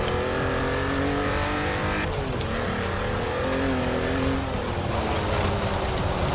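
A car driven in Forza Horizon roars loudly and continuously, its engine revving and shifting pitch as it accelerates, with tire noise and a steady rumble throughout.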